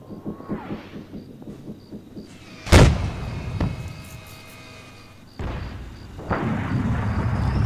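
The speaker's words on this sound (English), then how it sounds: "I'm going to fire off some right here. Let's get 5 rounds down" Artillery fire in the video game Arma 3: one loud, sharp blast with a booming tail, a smaller thump about a second later, then rumbling battle noise, with mechanical engine-like pulsing before the shot.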